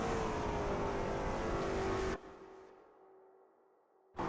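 Lola T70 MkII Spyder race car engine at Brands Hatch GP in a racing game, a loud sustained roar with rising pitch that cuts out abruptly, leaving a quieter fading drone before returning sharply.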